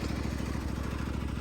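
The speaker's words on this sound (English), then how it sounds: "we're gonna continue mowing" A greens mower cutting a golf course runs as a steady, close engine drone with a regular low throb, loud and continuous with no talk.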